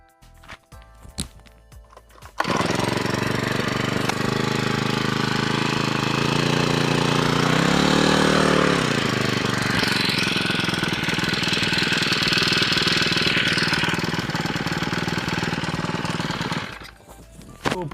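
A two-stroke brushcutter engine, a grass-cutting machine being checked for valve tuning, fires up after a brief pause and runs loud and close with a buzzing drone, briefly revving up midway before settling and then cutting off.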